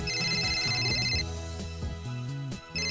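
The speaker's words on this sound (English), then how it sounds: "Mayuri's cell phone starts to ring." Mayuri's cell phone ringing in the visual novel Steins;Gate, a bright repeating electronic ringtone melody playing over background music, with the ring tone pausing midway and then resuming.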